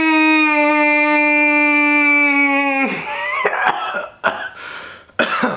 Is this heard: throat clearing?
yes